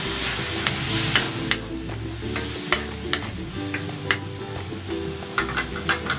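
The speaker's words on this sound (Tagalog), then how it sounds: "Lagyan natin ng konting soup stock para maluto." Pancit vegetables with baggy beans sizzle and crackle in a hot pan as soup stock goes in, with steady frying hiss, scattered sharp pops and light stirring scrapes throughout, no voices.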